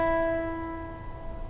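A single guitar string plucked at the fifth fret while tuning rings out clearly on its own, a bright note with overtones decaying over about a second and a half.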